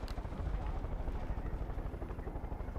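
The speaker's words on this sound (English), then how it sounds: "I mean, I got the helicopter already." Steady, loud, rhythmic rotor thumping of a helicopter in Far Cry 5, a continuous low chopping drone that fills the whole stretch.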